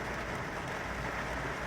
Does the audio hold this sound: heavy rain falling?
yes